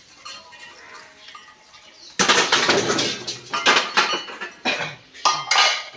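Washed dishes and pots clatter and clink loudly as they are stacked away, a quiet stretch giving way to a burst of sharp, jangling knocks that continue in uneven bursts.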